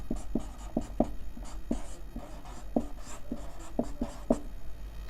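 Pen writing notes on a board or paper during a class-10 plant hormones science lesson, a close run of short scratchy strokes in an irregular rhythm with no talking.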